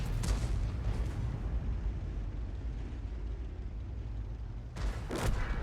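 A Bat.-Châtillon 155 self-propelled artillery gun in World of Tanks fires, a heavy booming blast at the start followed by a long rumbling decay and a second loud shot near the end.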